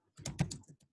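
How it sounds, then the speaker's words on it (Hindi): A quick burst of keystrokes on a computer keyboard, about five or six close, crisp clicks tapped in a fast uneven rhythm, then silence. "कुछ टाइप करूंगा"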